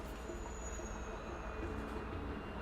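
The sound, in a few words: train passing in Alpha Protocol video game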